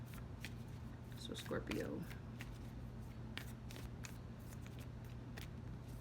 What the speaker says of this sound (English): I'm just going to pull you a nice Oracle card and see what we need to know.